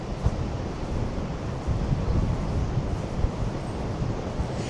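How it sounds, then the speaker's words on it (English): Strong wind gusts buffet the microphone on the west coast at Blackpool, a continuous loud roar with low rumbling surges and no one speaking. "There's one thing we do well on this west coast, and it's wind."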